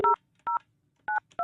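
Telephone keypad tones beeping as a number is dialed, four short evenly spaced dual-tone beeps, clear and close with silence between them.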